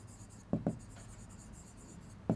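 A pen writes a maths solution on paper, a close, soft continuous scratching broken by a few sharper taps as strokes begin, with no talking.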